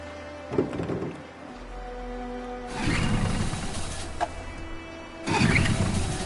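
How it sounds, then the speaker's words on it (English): A boat engine cranking and revving in the video game Detroit: Become Human, with loud rumbling bursts that surge, drop back and surge again over a steady low drone. "Let's get that engine going."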